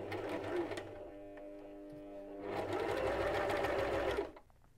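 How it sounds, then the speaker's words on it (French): A sewing machine stitches shoulder seams, right sides together, 1 cm from the edge, running in two loud bursts separated by a quieter, slower stretch before stopping. "Assembler les épaules, endroit contre endroit. Piquer à 1 cm du bord."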